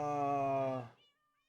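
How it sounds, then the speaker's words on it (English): A single drawn-out meow from a Minecraft cat in the video game, clear and tonal, fading out abruptly after under a second. "The cats are scaring away the phantoms."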